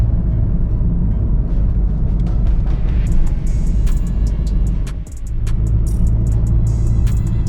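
A car drives along an open road in Turkey, its engine hum and tyre roar steady and close throughout, with a brief dip in the middle and no talking.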